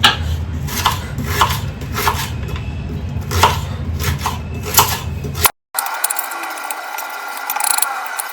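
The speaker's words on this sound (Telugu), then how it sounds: "ఉల్లిపాయలు సన్నగా తురుముకోవాలండి." Onions are finely chopped with a knife on a wooden board in a steady, fast rhythm of close, loud knocks, then a brief break before softer scraping follows.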